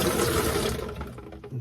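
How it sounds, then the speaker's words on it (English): Water gushes steadily from a newly installed Danze Smarttouch kitchen faucet, a loud broadband rush that thins and softens toward the end as the flow settles, with no voices. "So right now I'm going to turn the water on"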